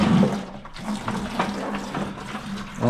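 Water gushes and splashes from a disconnected household pipe near a well connection, a close, fluctuating pour with surging bursts.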